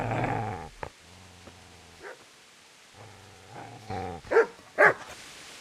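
A dog growls and barks in the medieval role-playing game Kingdom Come: Deliverance: a low sustained growl that rises into a couple of sharp, loud barks near the end, with a few short yips in between.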